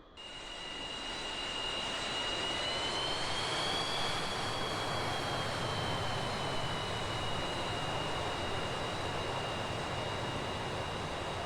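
An MB-339 jet trainer taxiing in DCS World, engine spooling up from quiet to a loud steady whine with a high tonal hum over broad roaring rush, sustained and alone.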